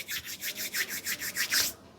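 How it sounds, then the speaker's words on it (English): Two hands rub briskly against each other in a quick, even back-and-forth rhythm, about a dozen close, dry swishing strokes that stop abruptly. "you can rub your hands against each other"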